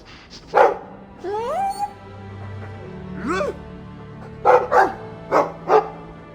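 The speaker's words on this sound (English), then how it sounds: "I like the doggy." Dog barks in the Dragon Age 2 video game, several short sharp barks in quick pairs near the end, with earlier rising whimper-like yips, over a low game ambience and music hum.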